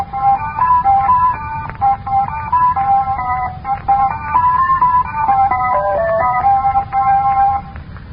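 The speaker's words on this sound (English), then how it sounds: "Now listen to the same tune played in harmonics only," A tune played in harmonics only with its fundamental tone stripped, a thin, bright electronic melody of steady sustained notes running continuously and loudly over a low hum.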